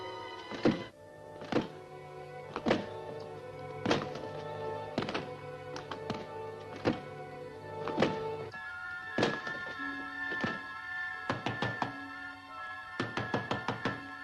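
Heavy wooden door in a 1945 movie serial being broken down, a series of loud, spaced thuds and crashes with creaks and rattles between blows, close and alone without talk.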